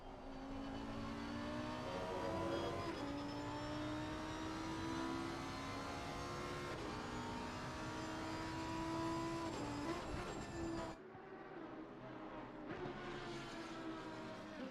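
A Lamborghini GT3 race car engine drones loud and steady on track at Kyalami in a racing game, pitch rising through the gears with brief shift breaks, and a sharp drop as the car passes.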